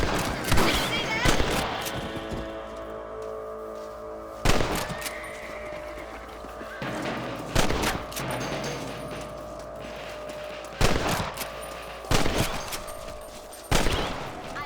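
Rifle shots ring out in Red Dead Redemption: sharp, loud single reports spaced a second or more apart across the clip, each trailing into a short echo over a quieter game background.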